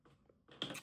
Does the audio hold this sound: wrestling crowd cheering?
no